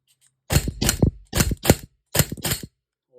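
A Springfield pistol's slide is racked, giving three sharp metallic bursts at steady intervals, each a quick double clack, close and loud with no talk.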